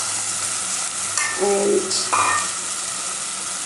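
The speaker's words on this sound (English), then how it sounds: "now I'm going to add in my coconut milk extract" Coconut milk extract hits a hot pan with snake gourd, a loud steady sizzle and hiss with brief clinks of a utensil and a short spoken word over it.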